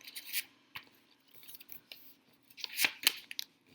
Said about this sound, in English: fold it toward you, pick it up, fold it away from you, and so on, all the way to the end of your paper